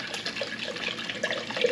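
Alkaline water at 9.5 pH pours from a Kangen ionizer machine into sprouting jars as a steady, fairly quiet splashing trickle that runs throughout.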